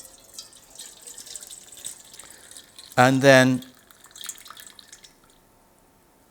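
Water poured off settled natural pigment in one brief splashing pour lasting under a second, close and clear, with a voice speaking faintly just after.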